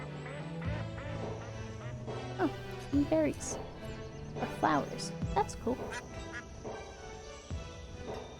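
Ducks quack repeatedly in the game Banished, several short bursts over a steady ambient game backdrop while someone talks throughout.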